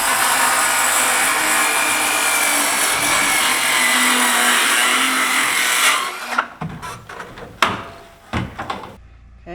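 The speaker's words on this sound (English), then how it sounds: "I'm going to be cutting a board over the front door." A power tool cuts a board above the front door of an off-grid cabin in snowy cold, whining steadily for about six seconds before stopping, followed by scattered knocks and handling clatter.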